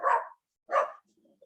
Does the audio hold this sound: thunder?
no